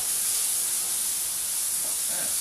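Bacon sizzles in a skillet, a steady close hiss that runs throughout with no talk over it.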